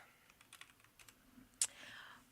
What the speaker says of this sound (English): You're typing something.